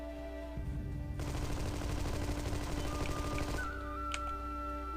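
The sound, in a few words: gunfire from Armed & Dangerous video game on Xbox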